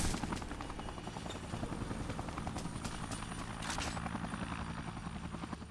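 A helicopter in the Dead Rising video game throbs with a loud, steady rotor chop, its rapid rhythmic beats going on throughout with no speech.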